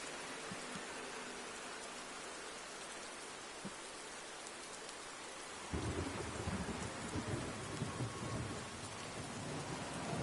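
Heavy rain and thunder at night at the Nürburgring in a GT3 racing game: a dense, steady hiss of downpour, then a deep rumble of thunder rolls in about halfway and lingers, no voices.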